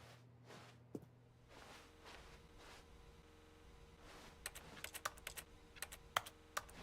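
Keys click during play of The Stanley Parable, starting as soft scattered taps and turning into a quick run of crisp, close keystrokes and mouse clicks toward the end.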